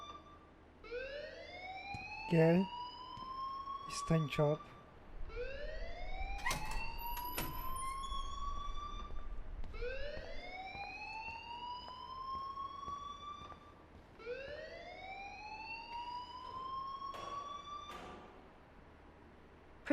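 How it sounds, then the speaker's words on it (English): A school alarm in the game Life is Strange wails in a repeating rising tone, four long sweeping cycles that carry on steadily, with brief clicks and bumps in between. "please turn off that alarm since that's your job"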